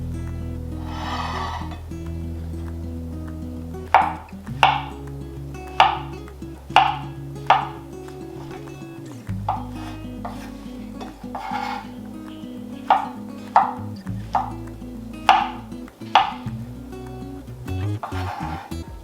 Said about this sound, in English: So I've got an assortment of mushrooms over here. I'm going to start off by slicing them up